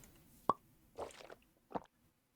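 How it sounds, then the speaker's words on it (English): A cork pops from a bottle in the video game Medieval Dynasty: one sharp, hollow pop followed by two softer, muffled sloshing knocks, heard alone and fairly quiet. "This is the first time I ever heard that cork pop noise for it."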